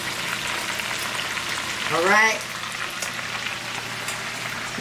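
Chicken fries steadily in a pan, giving a constant close sizzle and crackle, while a voice speaks briefly partway through as the piece is turned over.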